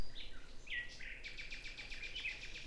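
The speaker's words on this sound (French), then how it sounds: "Les petits oiseaux" Small birds chirp and tweet in quick repeated calls, a fluttering series of high notes growing denser in the second half, heard clearly over a quiet background with no talking.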